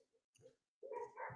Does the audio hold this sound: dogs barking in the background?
yes